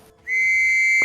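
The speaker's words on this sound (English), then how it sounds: "Egg gives a loud blow of his whistle" A single loud, shrill whistle blast starts abruptly and holds steady for most of a second.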